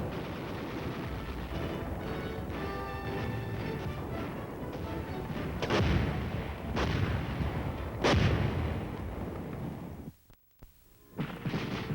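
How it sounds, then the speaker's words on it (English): A military artillery piece fires in heavy, booming blasts, several loud reports spaced a couple of seconds apart over a steady rumbling background, followed by a sudden cut to near silence. "It takes a team of soldiers to fire an artillery piece."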